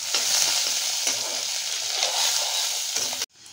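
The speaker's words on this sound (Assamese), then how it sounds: "এফালে এয়া তেল গৰম হৈ গ'ল আৰু ইয়াতে এয়া পিয়াজ দি দিছে" Onions sizzle and crackle loudly in hot mustard oil, a dense, close frying hiss broken by a few stirring scrapes before it cuts off suddenly near the end.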